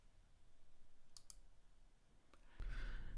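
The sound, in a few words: computer mouse clicks while navigating a help page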